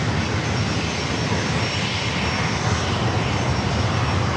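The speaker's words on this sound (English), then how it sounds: "See that Honda jet, so small, lined up." A small Honda jet business aircraft with wing-mounted engines produces a loud, continuous turbine roar that stays steady and close from start to finish at San Diego airport, with no talk over it.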